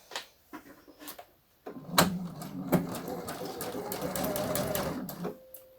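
A sewing machine stitches a blouse seam close to the edge. After a few short taps it gives a steady close whirring run of a few seconds, then stops.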